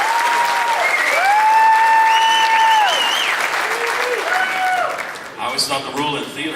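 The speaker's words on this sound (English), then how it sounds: "I think you'd stand and clap the whole afternoon." Audience at a Louisville Cardinals men's basketball tipoff luncheon giving a standing ovation, loud sustained applause filling the room while someone talks over it, the clapping fading near the end.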